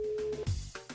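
Telephone tone on a call placed from a radio show to a listener: a short, steady electronic beep, close and clear, followed by a brief low thump and clatter.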